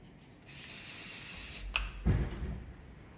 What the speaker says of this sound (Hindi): हार्ड स्प्रे से लॉक